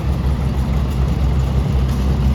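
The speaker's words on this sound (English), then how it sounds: "Oh, here it comes. Here comes the tractor." A tractor passes nearby, its low, steady engine rumble loud and continuous throughout with no talk over it.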